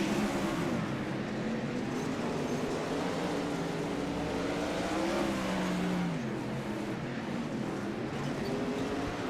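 Open-wheel race cars of the Hoosier Open Wheel Series circle the I-55 track under green flag, a continuous loud engine drone with shifting pitch as cars pass, steady throughout.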